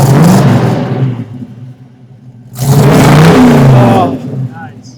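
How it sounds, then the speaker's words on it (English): A 1970 Camaro RS/SS with a Chevy big block engine revs loudly twice, deep roaring bursts that drop back to a rumbling idle between them, close by. "Well, I love the sound of that big block."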